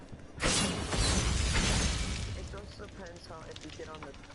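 A loud smash opens in Diablo III on PS4, a broad crash and crumbling debris that swells and slowly fades, with a voice talking faintly over the tail.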